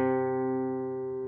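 A single low guitar string rings out alone, the fourth string tuned down from D to C for open C tuning, sustaining steadily and slowly fading over about a second.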